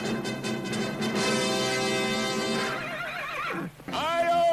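A horse whinnies loudly in an old Lone Ranger radio recording, with a long, bright, quavering neigh that rises and falls, and a second shorter whinny near the end over a busy background.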